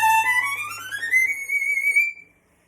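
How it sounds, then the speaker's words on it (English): A violin plays bright, high notes on its E string, a single sustained line gliding upward in pitch and ringing alone and close before stopping abruptly. "and bright, high sounds on the E string"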